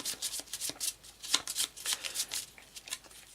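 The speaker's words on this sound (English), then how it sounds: "So we shuffle everything," Pandemic board game discard pile cards being shuffled by hand: a quick run of crisp, papery riffling and flicking bursts, close and fairly loud, repeating steadily for a few seconds with no talk.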